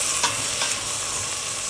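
Stirring tomatoes and chicken in a hot pan for kabsa, a steady scraping stir over a continuous sizzle and frying hiss, with a couple of brief louder strokes early on.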